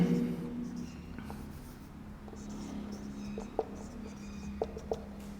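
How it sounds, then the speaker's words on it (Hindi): Someone writes on a board, a faint, soft scratching under a low room hum, marked by a few light taps of the writing tool near the end. "यहां लिखेंगे प्रिज्म।"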